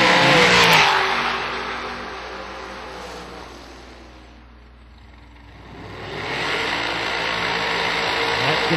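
Door cars at a drag strip launch and roar away, with loud engine noise at the start fading as they pull off, then rising again as more engine roar sweeps in near the end.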